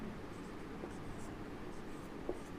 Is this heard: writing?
yes